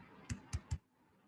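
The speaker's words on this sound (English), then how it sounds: "I am trying to type from keyboard of my machine" Three quick, evenly spaced keystrokes on a computer keyboard, close and faint, followed by quiet room tone, with no speech.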